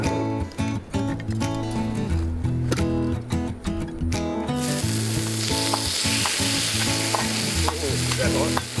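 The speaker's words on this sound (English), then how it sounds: "cook it for 30 seconds or so on extreme heat over the fire" Seafood with chilli and garlic sizzles over a campfire on extreme heat, a loud steady frying hiss that swells midway, with scraping stir sounds and background music throughout.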